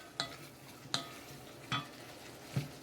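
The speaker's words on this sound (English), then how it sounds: "We're going to saute all this together here, guys" Peppers and onions sautéing in a pan sizzle softly while a utensil scrapes and stirs four times in an even rhythm, each stroke a brief clear scrape over a faint, quiet hiss.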